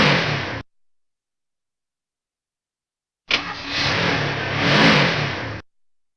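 A car engine starts after a pause, then revs and accelerates steadily for a couple of seconds at moderate distance, with a brief unrelated burst of noise at the very start and no talk.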